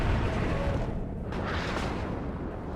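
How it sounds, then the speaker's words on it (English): Artillery shells land in the WARNO real-time strategy game, a dense rumbling barrage of low booms and bursts rolling on continuously at moderate volume. "Artillery coming down on me."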